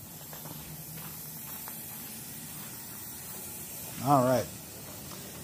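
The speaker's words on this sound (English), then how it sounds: "Now, if this is done correctly, only steam's going to come out." Steady steam hiss from the nozzle of a pressure sterilizer used for substrate sterilization, a constant breathy rush throughout, with someone speaking briefly near the end.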